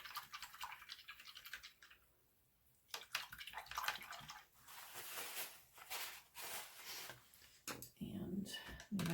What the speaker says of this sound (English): So I rinse out my brushes.